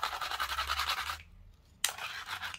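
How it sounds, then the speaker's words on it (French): A small brush scrubbing across a handmade Christmas card, a steady close scratchy bristle sound that stops briefly and then resumes, with no talking. "je vais nettoyer ça aussi en passant avec ma petite brosse magique"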